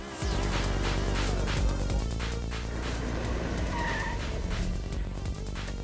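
A large, boat-like car is driven in the video game Sleeping Dogs. The engine drones loud and steady throughout, with tire squeal and skidding rising over the continuous road noise.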